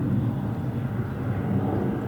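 A jet airliner taking off from SFO on a cloudy day, heard as a steady, continuous low rumbling roar of engines that stays loud and even, with no voices.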